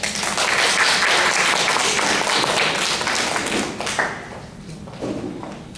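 Dense audience applause welcoming the moderator at a school district debate evening, loud and steady for about four seconds before thinning into scattered claps.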